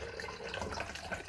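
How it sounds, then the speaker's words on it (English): Water pouring into a wallpaper steamer, a faint, continuous splashing trickle heard up close and without any voices. "I'm just pouring in the water for the steamer."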